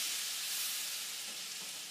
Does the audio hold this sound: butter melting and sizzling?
yes